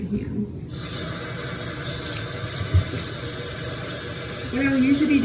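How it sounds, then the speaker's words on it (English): Water runs steadily from a tap into a bathroom sink while hands are washed beneath it, a continuous close hiss with a brief knock near the middle and a rougher splash toward the end; a voice speaks faintly alongside. "let me wash my hands"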